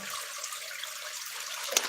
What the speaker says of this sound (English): let me see if I can get closer so that way you can hear the water